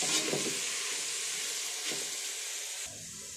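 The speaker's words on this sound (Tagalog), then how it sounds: "Gisa lang natin ulit hanggang madurog yung kamatis." Tomatoes and beef sautéing in a pan for kinamatisang baka, a steady close sizzle and hiss with a couple of brief stirring scrapes, no talk.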